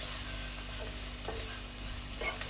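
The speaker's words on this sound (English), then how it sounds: "So your masalas are being fried." Masalas fry in a pan for a chicken curry, a steady close sizzle with the occasional scrape of stirring through it and no talk.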